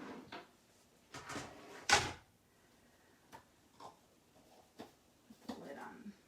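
A craft-table drawer slides open, followed by a sequence of scattered knocks, taps and rustles as items inside are rummaged through, close and fairly quiet, with brief murmured talk in between.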